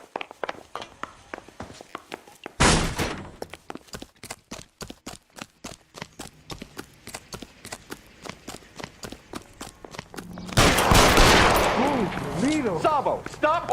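Gunfire in the video game L.A. Noire: a loud sharp report around the third second and a dense burst of shots near the end, with footsteps and a shout between them.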